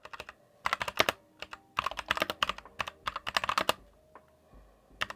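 Bursts of keystrokes on an Ajazz AK871 mechanical keyboard fitted with red linear switches, clacking in quick uneven runs with brief pauses, close and fairly quiet, no voices.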